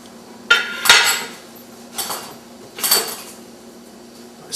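A serving plate and other dishes clatter as they are taken out and set down, four sharp ceramic knocks spaced about a second apart, close and fairly loud.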